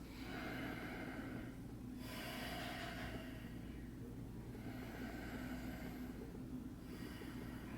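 Slow, deep breaths drawn in and out during a yoga Sphinx pose, a few long airy breath cycles, close and steady over a low background hum, with no talk.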